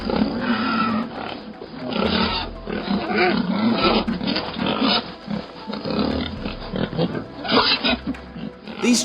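Wild boars grunt, squeal and snort continuously in a loud, crowded chorus, with rough overlapping calls throughout.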